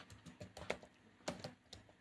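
Computer keyboard being typed on while writing C code, a quick irregular run of soft key clicks with short pauses between bursts, quiet and close.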